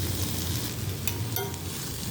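Sliced plantain coated in masala sizzles steadily in a pan as it is stirred, a continuous close crackling fry with soft scraping touches and no talk.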